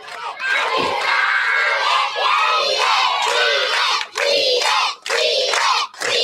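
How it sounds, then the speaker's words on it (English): A crowd of schoolchildren at a remote grammar school in the Sierra Maestra foothills cheers and shouts loudly in sustained bursts, with a few brief pauses between rousing roars. "Some kids are cheering him, boy."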